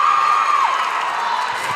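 Loud, sustained cheering and screaming from teammates after a made free throw in a high school girls' basketball game, a dense crowd roar with high whoops and shouts.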